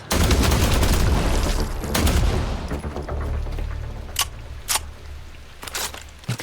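Gunfire in the survival game The Last Caretaker: a dense, loud burst of rapid shots fades into scattered single reports and sharp metallic clicks, ending with a few isolated bangs over low rumbling ambience.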